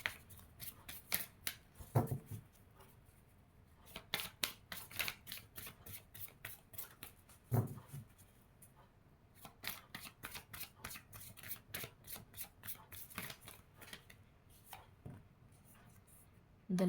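Tarot cards are shuffled by hand in long runs of crisp, rapid riffling and slapping, close and fairly quiet, with brief pauses and a few sharper knocks between bursts, and no one speaking.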